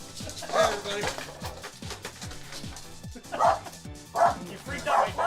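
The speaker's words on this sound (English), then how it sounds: "You freaked out my dog." A pet dog barks and yips in short, loud bursts close by, several outbursts spread unevenly across the stretch while people keep talking over the noise.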